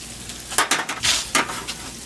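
Frog legs fry in a small pan, a crackling sizzle with bursts of spitting and a stirring scrape or two over a steady hiss, close and moderately loud, with no talking.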